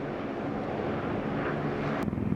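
A US bomber aircraft lands in the Middle East, its engines giving a steady, dense roar throughout with a sharp click near the end.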